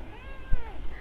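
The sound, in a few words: kitten meowing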